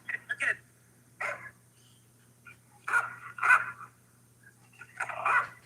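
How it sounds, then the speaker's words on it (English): A Belgian Malinois dog barks in short, separated bursts nearby, a few quick yips early, then single and doubled barks spaced over several seconds against a quiet background. "That's a Malinois, right? The dog breed."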